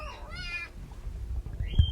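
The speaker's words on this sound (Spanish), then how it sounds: "Uy, está llegando el gatito." A kitten arriving gives a single rising, wavering meow, close and fairly clear, followed by softer shuffling and a short faint squeak near the end; no speech is heard.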